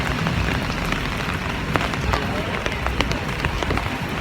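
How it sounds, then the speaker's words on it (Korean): Steady rain falls on a New York street, a dense broadband wash with scattered sharper drips and splashes, loud and close throughout. "지금 비가 와요."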